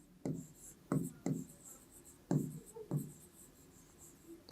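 Pen strokes on paper while a maths solution is written out, a series of about six short scratchy bursts at irregular intervals, close and fairly quiet, with no talking.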